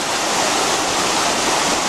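Water in an Ozark Highlands creek in Arkansas rushes steadily, a dense, continuous close-up hiss and burble with no pauses.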